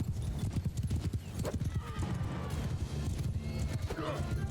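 Horse hooves gallop in a steady rapid clip-clop during a Mount & Blade II: Bannerlord battle, with occasional neighs and whinnies over a dense low rumble of mounted combat, and speech mixed in.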